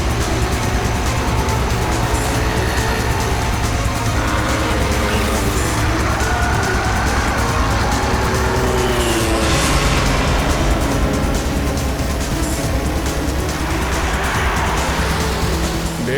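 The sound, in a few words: car being driven fast in a chase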